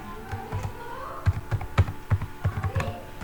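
Keys clacking on a computer keyboard while a word is entered into a Microsoft Word document, a quick irregular burst of close, crisp taps with no talking.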